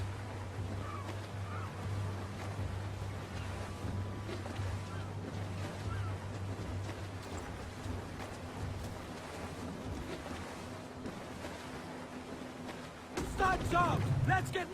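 Open ocean in Assassin's Creed IV: Black Flag, a steady wash of waves, wind and creaking sailing ship running softly under nearby talking, with a louder burst near the end.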